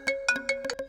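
A phone ringtone plays as someone calls another person: four or five bright, tonal melodic bursts repeat in a quick, steady rhythm, close and clear, with no talking over them.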